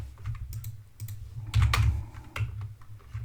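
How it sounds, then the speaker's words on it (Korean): Computer keyboard keys clack in quick, uneven bursts, several close taps falling together as shortcut combinations are pressed, near and fairly quiet with no talking. "이거 카피 페이스트 할 때는 그냥 컨트롤 C 누르고 컨트롤 V 누르면 돼요"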